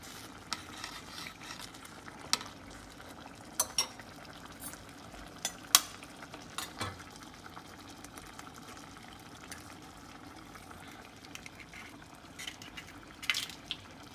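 Eggs cracked against a knife and dropped into a pan for huevos rancheros, giving a few sharp, faint taps spaced seconds apart over a low, steady kitchen hiss.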